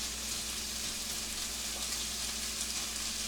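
Bacon frying in a pan for a New England steak and cheese, a steady bright sizzle with fine crackling pops running evenly throughout, close and alone with no talk.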